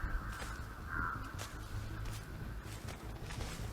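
Crows caw repeatedly in the video game Dead by Daylight, their harsh calls carrying over a dense, steady layer of in-game ambience.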